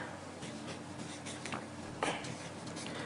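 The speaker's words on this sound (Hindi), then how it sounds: "जिसे भी आपको अपने वश में करना है उसका नाम आपको इस कागज पर लिखना है।" Pen scratching across paper as a name is written, a soft continuous scribbling with a few brief stroke accents and one sharper scratch near the end, close and quiet with no talk.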